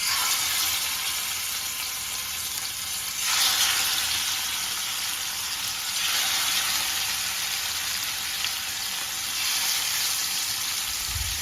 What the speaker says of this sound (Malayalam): എണ്ണ നല്ല ചൂടായിട്ടുള്ള അപ്പൊ നമുക്ക് മീനിടാം അല്ലേ?